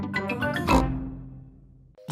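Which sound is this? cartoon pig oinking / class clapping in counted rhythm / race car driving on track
cartoon pig oinking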